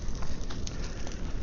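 A proper bonfire burning outdoors in Texas, with a steady broadband roar and scattered soft crackles and pops, close and continuous through the short stretch.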